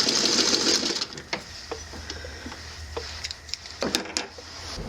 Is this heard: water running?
no